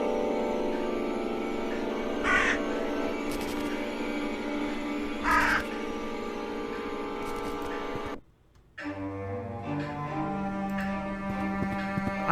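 Several crows cawing in the eerie game The Last Door: harsh, raspy caws burst out at intervals over droning background music, which suddenly cuts to near silence before a new tone begins.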